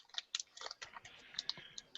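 Rapid, light clicking of keys on a computer keyboard, a faint, uneven patter of close taps with no voices over it.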